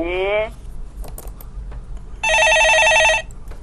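A telephone rings in two electronic trills, a short one and then a longer one about a second long, loud and close over a low background hum.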